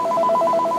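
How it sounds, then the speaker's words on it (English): A telephone rings in a steady repeating electronic pattern of quick warbling pulses, close and fairly loud, with no one talking over it. "Sorry, gotta get the phone real quick."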